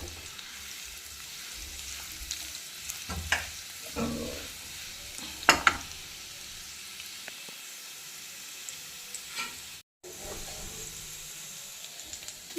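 Ginger frying over medium heat in a pan for pongal sambar, a quiet steady sizzle broken by intermittent stirring scrapes and clinks, briefly cutting out near the end.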